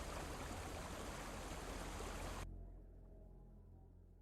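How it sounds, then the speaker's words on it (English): Falling water rushes steadily near decrepit catacombs on Korthos Island in Dungeons and Dragons Online, then cuts off abruptly, leaving a faint, low hum. "The decrepit catacombs are slightly obscured by the falling water."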